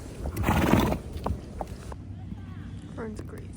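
Fern, a show horse, gives a loud, drawn-out whinny close by. Softer hoof and movement sounds follow, with a brief higher call near the end.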